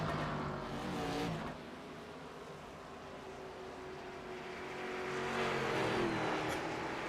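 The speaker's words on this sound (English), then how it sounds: "That battle for the race lead is kind of the battle we've been watching" Race cars at Lucas Oil Indianapolis Raceway Park roar steadily around the track, the engine note dipping and then swelling louder as cars pass close by, with no talking.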